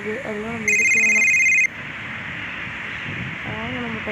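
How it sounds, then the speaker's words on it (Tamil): A mobile phone rings with an incoming call on a hillside climb, a bright electronic ringtone burst lasting about a second amid outdoor rustle, with people talking before and after it. "வெற்றி வாங்கி ஃபோன் பண்ணுது, அதெல்லாம் நம்ம எடுக்க வேணாம்"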